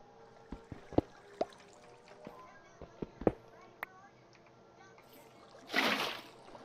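Water placed in Minecraft makes a brief broadband splashing whoosh lasting about a second, heard after a run of scattered clicks and taps and with nobody speaking.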